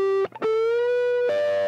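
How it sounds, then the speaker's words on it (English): Distorted electric guitar note on the second string, bent up to C sharp at the 14th fret, sustained and loud with a brief picked break near the start and a pitch step near the end. "the C sharp right here on the 14th fret of the second string."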